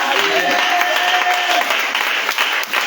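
A church congregation applauds and cheers for Jesus in sustained, loud, dense clapping, with voices mixed into the crowd noise throughout.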